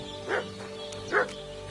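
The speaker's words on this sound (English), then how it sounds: "What's that dog making such a fuss about?" A dog barks twice, about a second apart, moderately close against a low steady background hum.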